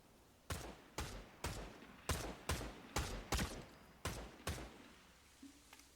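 Gunfire in Fortnite Chapter 7 cracks out in a steady burst of about ten sharp, loud shots spaced roughly half a second apart, each with a short ringing tail, followed by a brief quieter tone.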